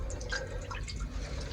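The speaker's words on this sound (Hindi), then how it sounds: "पानी डाला इसमें" Water running steadily into a cooking pot before noodles are added, a soft, close, continuous splashing trickle with faint dripping over low background hum.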